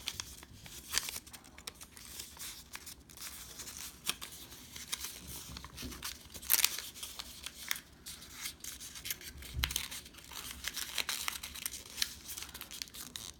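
Sheet of paper folded into thirds by hand, with crisp crinkling, rubbing and creasing rustles coming in short bursts close to the listener and no talking.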